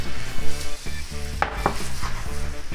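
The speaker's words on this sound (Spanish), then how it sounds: "Volvemos a mezclar y añadimos el atún" Tuna is stirred into a sizzling mixture in a frying pan for a Galician tuna empanada filling, with repeated scraping strokes of a utensil over a steady close sizzle.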